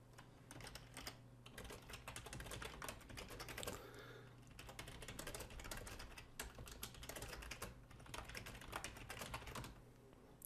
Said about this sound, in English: I'm just going to type back to him.